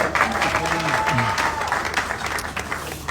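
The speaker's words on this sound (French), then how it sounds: "Est-ce qu'on peut acclamer?" A wedding audience bursts into sustained clapping and cheering, a dense wash of many hands with a few shouts rising over it, and a voice talking through the noise.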